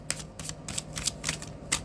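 Tarot cards being shuffled in the hands, a quiet run of about seven short crisp riffling bursts at a steady, fairly quick rhythm against a faint background hum.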